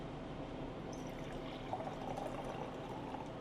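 Water poured into a blue-purple drink being mixed behind a coffee shop counter, a steady soft liquid trickle and splash lasting a few seconds under a continuous background hum.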